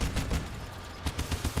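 Rapid automatic gunfire from a minigun or autocannon mounted on a combat vehicle in the game Crossout, loud bursts of dense rattling shots with a brief lull in the middle, no voices.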